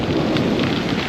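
Heavy rain falls outdoors as a dense, steady hiss and patter close by, constant and unbroken for a moment, with no voices.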